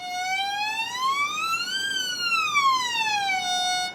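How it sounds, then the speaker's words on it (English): A violin finger slides smoothly up and then back down the E string, making one loud, sustained, wavering glissando that rises and falls like a siren. It is heard alone with no talk. "just sliding the first finger up and down the E string"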